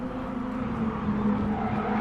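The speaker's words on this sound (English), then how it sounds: "You can see the tyres working and the car's squealing for grip." A Toyota SF-R race car at Tsukuba Circuit pushes its tyres hard, giving a steady engine drone with a strained squealing edge, continuous and fairly loud.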